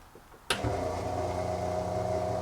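A newly wired water pump in a converted bus's plumbing system starts with a sudden click, then settles into a steady, close electric hum and whir that runs without pause.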